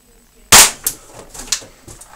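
A single sharp pop from a TPS airsoft pistol firing one shot, loud and close, followed by a few faint clicks and handling noises.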